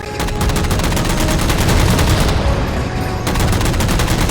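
Sustained rapid gunfire from Halo 4 as the player shoots down jammers, a dense continuous volley of loud shots with a brief lull before firing resumes.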